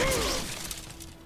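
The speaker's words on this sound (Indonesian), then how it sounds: "Musashi menghancurkan batang-batang bambu hanya dengan ayunan tangan dan genggamannya hingga hancur" Bamboo stalks smashed to pieces by hand: a sharp crashing burst at the start with splintering crackle that quickly fades into a lingering, decaying rattle.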